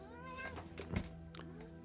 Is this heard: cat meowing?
yes